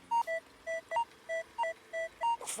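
Metal detector signal tone over a buried coin at an old home site: a quick, regular series of short two-pitched electronic beeps, close and clear, ending in a brief rustle.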